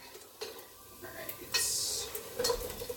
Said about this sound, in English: weird face Jackson is going to keep stirring